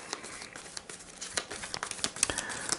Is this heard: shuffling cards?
yes